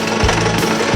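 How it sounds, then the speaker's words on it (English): Drill press drilling with a harsh, rattling motor buzz, loud and close, in a short burst with rhythmic pulses. "This drill press is not very powerful"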